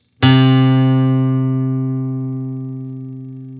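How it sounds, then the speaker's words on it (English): A single guitar note fretted at the third fret of the A string rings out clearly and sustains, slowly fading over a few seconds, alone with no other sounds. "So go ahead and fret the 3rd fret on the A string right there,"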